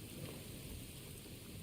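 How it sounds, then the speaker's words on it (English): Rain pours in Genshin Impact under a low rumble of thunder, a steady, fairly quiet hiss of falling water over a deep, continuous roll. "the sound of thunder is the prelude to new life"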